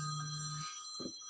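A telephone rings with a steady tonal buzz that cuts off, followed by a short low knock, moderately faint in a quiet room.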